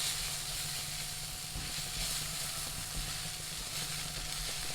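Ginger garlic paste sautés with onions in hot oil for palak paneer, a steady close sizzle and hiss that runs unbroken throughout, with occasional faint stirring.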